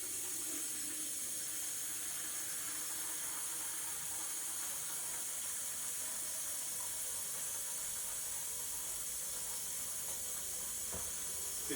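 Tap water pours steadily into a gallon pitcher, filling it to the 2 quart line, a continuous close hissing rush that holds level throughout with no voices.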